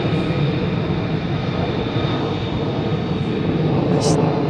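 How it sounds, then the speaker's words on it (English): Fighter jets of the 48th Fighter Wing roar on takeoff as a dense, loud, sustained engine rumble that fills the whole stretch without letting up. "It's otherwise known as an unrestricted takeoff, folks."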